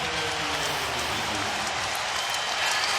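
A basketball crowd at the Staples Center during a Lakers game against the Spurs cheers and claps in a dense, steady roar that fills the arena, loud and unbroken for a few seconds.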